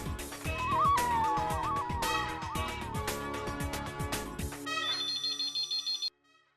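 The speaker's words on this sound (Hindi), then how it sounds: "बाघा भाई को फोन करना तो रह गया, मैं फोन कर लेता हूँ" A melodic phone ringtone plays loudly over a steady rhythmic backing, then shifts to a bright tone before cutting off abruptly near the end.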